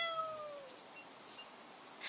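Moss, a pet cat, meows with a falling, drawn-out cry near the start, then faint further mewing over a soft, steady forest-like ambience, with no talking.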